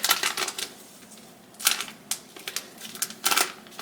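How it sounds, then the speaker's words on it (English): Transfer tape peeled slowly at an angle off cut vinyl lettering on foam core board: close, crackly ripping bursts in several short pulls, separated by quieter pauses. "I'm going to pull my transfer tape back, kind of at an angle"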